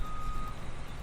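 A farm vehicle's reversing alarm beeps steadily and loudly while it backs up in Farming Simulator 15, with a low engine hum underneath.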